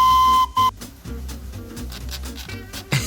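A miniature coal-fired steam train gives a loud, steady whistle for a short blast. A second short toot follows, and the engine chuffs and hisses after it.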